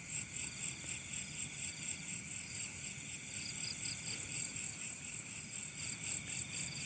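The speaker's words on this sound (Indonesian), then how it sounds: "Oh, banyak ininya, belalang." Grasshoppers trilling at night in an Indonesian rural setting, a dense, steady high-pitched chorus with faint pulsing, continuous and fairly quiet throughout, with no talking.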